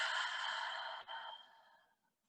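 A slow, deep exhale during yin yoga breathing, a soft breathy rush close to the ear that fades out gradually over about two seconds, alone with no talk.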